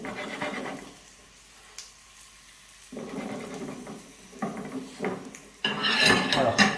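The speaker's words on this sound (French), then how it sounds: "Alors, je les mets sur l'assiette." Fried potatoes are scraped and shifted onto a plate with metal utensils, giving scattered clinks and scrapes that grow busier and louder toward the end, with a quiet stretch early on.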